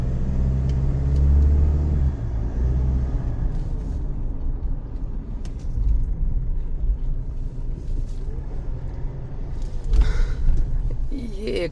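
A car rumbles along at low speed and comes to a stop for parking outside a hotel on the Khobar Corniche in Saudi Arabia, steady close engine and road rumble with a brief brake hiss near the end.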